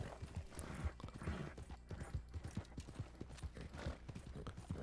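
Horse hooves clip-clopping in Red Dead Online, a Black Turkoman horse walking at a steady trot-like rhythm, moderately close but quiet under a busy game background, no speech.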